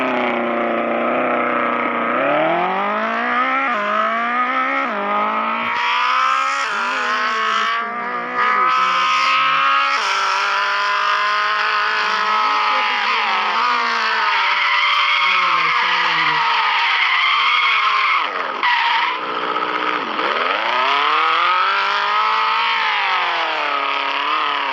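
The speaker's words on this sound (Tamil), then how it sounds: "actually drifting" A Nissan GT-R race car drifts in a video game, its engine note rising and falling steadily while tires squeal and skid loudly and continuously throughout.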